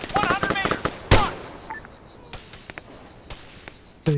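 Gunfire in the military shooter Arma 3: a few sharp, scattered shots crack out at irregular intervals against a quiet background, with shouted voices heard early on.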